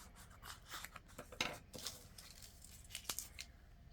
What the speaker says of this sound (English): So let me round my corners